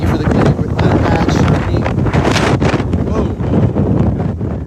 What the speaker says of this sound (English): All right, that was a big gust.